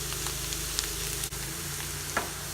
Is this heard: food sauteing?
yes